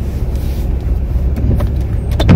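A small car is maneuvered while backing into a parking spot in Finland, its engine a steady low rumble up close with a few faint clicks and a brief rising whine near the end.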